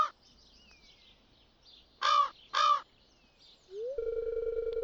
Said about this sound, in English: Darn crows.